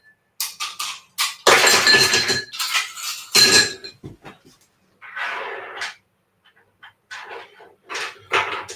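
Ice goes into a mixing glass with bursts of clinking and rattling, close and loud, in several separate clusters separated by short pauses.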